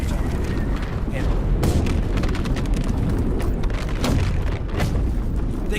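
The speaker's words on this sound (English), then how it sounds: "they call this sort of shelling drum fire, and that's because the ordnance is hitting so rapidly that it sounds like a drum roll" Artillery drum fire shelling in a WWI-style VR war experience: a dense, continuous rumble of rapid booms and blasts rolling together like a drum roll, loud and unbroken, with sharper bursts punching through.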